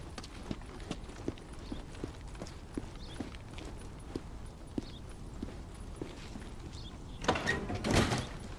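Footsteps from the player character in Days Gone thud at a steady running pace, close and evenly spaced, then a louder burst of movement near the end.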